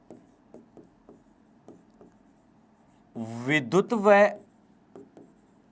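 Chalk writing on a board in a classroom: short scratchy strokes in an uneven rhythm, fairly close, with a voice speaking over it partway through.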